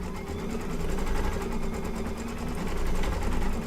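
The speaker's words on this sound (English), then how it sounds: "I'm just going to stitch these ones down again." An embroidery machine stitches down a patchwork pets quilt block, giving a steady, fast mechanical whir with a rapid needle rhythm that holds close and even throughout, with no voices.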